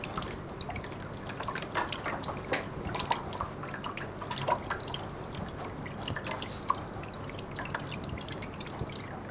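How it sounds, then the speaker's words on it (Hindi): Water runs as hands are washed, a steady trickle broken by scattered drips and splashes, constant throughout with no talking. "और उसके बाद पानी से इसको साफ़ कर देंगे"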